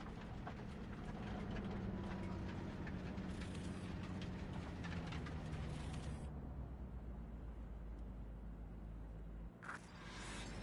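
A train in Cyberpunk 2077 rolls steadily along rails with a faint, low, continuous rumble and clatter, which softens partway through before a brief louder rattle near the end.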